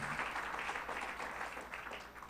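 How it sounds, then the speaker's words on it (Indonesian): A church congregation at a Sunday worship service cheers and applauds, a steady dense wash of clapping and shouts sustained throughout at moderate level with no clear break. "Sorak-sorai yang lebih dahsyat buat Tuhan kita."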